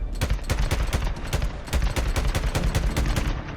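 Rapid gunfire from Days Gone Remastered, a dense, steady burst of close, loud shots running continuously for several seconds, with no talking.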